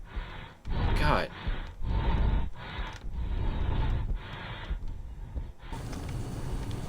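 Heavy, ragged breathing from Steamboat Willie in the horror video game Captain Willie, a series of loud, rhythmic panting breaths close up, each separated by short pauses, with a hiss at the end.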